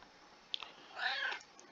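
A domestic cat gives a single short, faint meow close by, a brief high cry lasting under a second against a quiet room.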